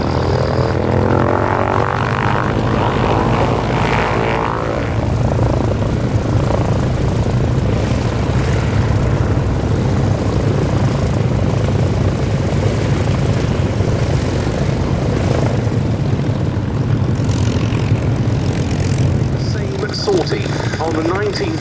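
Two Mark 9 aircraft flying together in formation at an airshow, a steady loud engine roar filling the whole span, with a commentator talking over it throughout.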